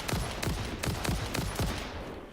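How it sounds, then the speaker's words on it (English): Rapid bursts of video-game gunfire as the player shoots enemies in Satisfactory, about five loud, sharp shots in an even rhythm, close and alone. "When I start shooting them, they actually notice where the shooting is coming from and come charging over towards me"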